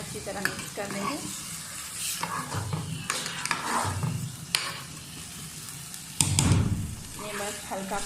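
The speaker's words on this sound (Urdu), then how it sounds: "یہ بس ہلکا پھلکا ہلانا ہے، زیادہ نہیں اس میں چمچ ہلانا" A spoon gently stirs rice through sugar syrup in a pot, giving soft scrapes and bubbling sizzles with a few sharper metal clinks. A voice talks over the stirring throughout.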